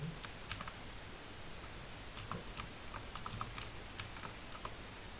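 Quiet, irregular clicking of keys being typed on a computer keyboard, in short bursts against a faint background hiss, with no talking.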